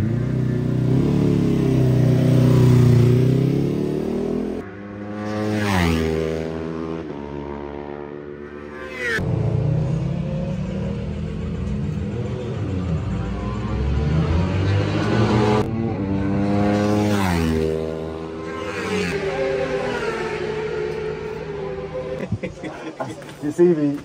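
A Ducati V2 motorcycle racing in British Supersport, its engine revving up and down through repeated rising and falling sweeps with gear shifts, close and loud, while a rider talks over much of it.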